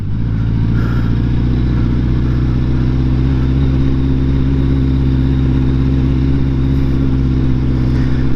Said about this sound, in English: Off-roading on a GTR is not a good idea.